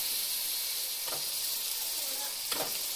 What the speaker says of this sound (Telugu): ఇప్పుడైతే నేను ఫిష్ ముక్కల్ని అయితే వేసేస్తున్నాను.